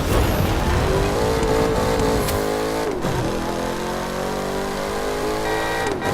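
Car engine in The Crew 2 during open-world driving, a loud, close drone that climbs in pitch, drops briefly as if shifting or lifting off, then settles into a steady cruising tone.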